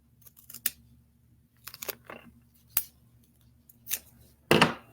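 Scissors snip through paper while a top hat section is trimmed, giving a few sharp, close, separate cuts with quiet gaps between them and a louder crunchy cut at the end.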